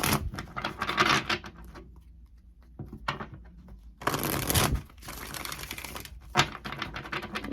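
Tarot cards being taken out and handled, with brisk crisp shuffling and riffling bursts broken by quiet pauses and a few sharp taps, close up and without talk.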